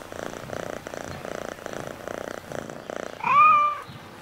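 Steady, close purring from a cat being cuddled in the game Assassin's Creed Mirage runs in a continuous rhythmic rumble, then a louder short meow-like cry breaks in near the end.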